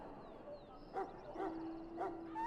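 A wounded dog whimpering in the Dragon Age Origins video game, soft high whines and small yips repeated three or four times over a low ambient hum, close and without speech.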